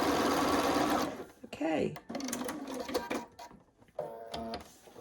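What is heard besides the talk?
sewing machine sewing blanket fabric pieces together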